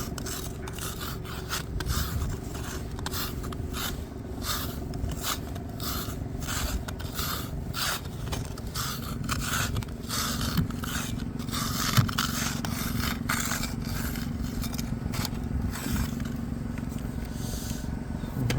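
A scraper rasps repeatedly across a snow-covered car windshield in a snowstorm, rhythmic scratching strokes close by over a steady low rumble.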